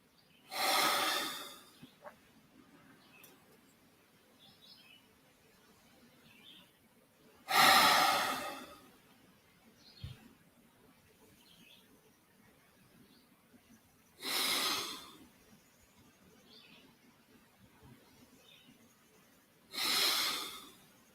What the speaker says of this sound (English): Continue to challenge yourself to an increased pace, but it must involve breathing into capacity